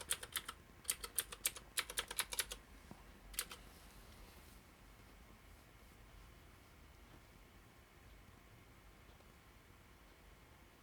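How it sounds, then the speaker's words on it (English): A computer keyboard clatters in quick bursts of keystrokes as a password is typed; a dense run of clicks fills the first few seconds, followed by a brief last flurry, and then only a faint room hum remains. "I set a special password so I can type it all in front of you."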